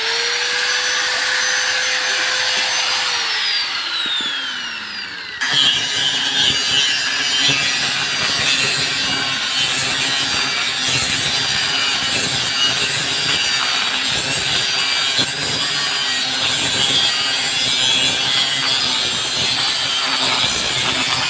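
Angle grinder with a local-made disc cutting through a broken refrigerator's motor to free the copper wire: a whining spin-up with falling pitch, then a harsh, loud, continuous grinding of metal that rasps on steadily for many seconds, with no one speaking.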